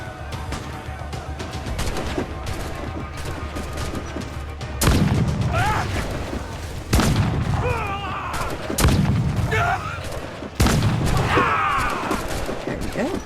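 A ship's swivel gun in Assassin's Creed Black Flag fires as several loud booming shots spaced a couple of seconds apart, each followed by splashing and crashing debris over a constant rumble of sea and wind.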